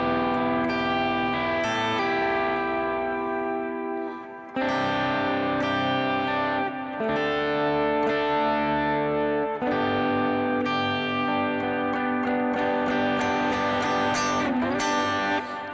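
An electric guitar run through effects plays worship-style triad embellishments around a G: ringing, sustained chord tones and melodic fills with echo and chorus shimmer, a short pause between phrases, loud and continuous with no talking.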